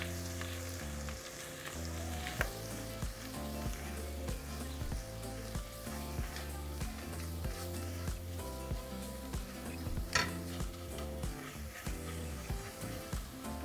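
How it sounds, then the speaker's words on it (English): Flour is stirred into a sizzling garlic mixture in a pan. Steady frying sizzle runs throughout, with close, rhythmic scraping of the spoon and a few louder clacks against the pan, and no speech. "we're going to add our flour and just mix it in."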